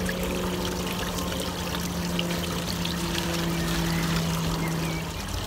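Water is poured and stirred to acclimate new pet fish, a steady close trickling and splashing that runs continuously with a faint low hum beneath.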